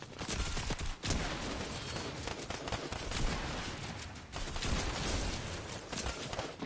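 Gunfire rattles on continuously in a Fortnite match, with dense, overlapping shots and bursts at moderate volume and no pause in the action.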